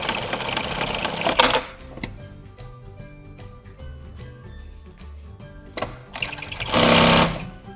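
A Jack 6380EHC industrial sewing machine for leather and upholstery runs in loud bursts of rapid stitching at the start and near the end, with quieter mechanical ticks and clicks in between.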